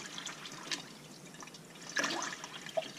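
Hot and cold water runs from a tap in an off-grid roundhouse fed by a wood stove, a soft steady trickle with faint drips and splashes, no one talking.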